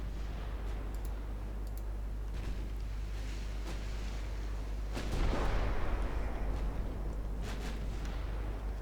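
Naval gunfire from armored cruisers in the naval strategy game Ultimate Admiral: Dreadnoughts, heard as a steady rumbling battle bed with scattered distant booms and a heavier burst of firing midway.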